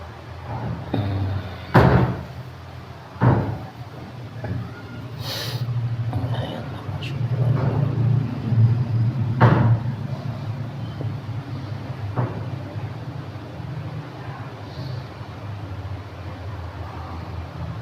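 A heavy door bangs several times inside a drainage pipe culvert at Baturaden, each impact a loud hollow thud with ringing echoes, spaced irregularly over a low droning background with occasional faint voices.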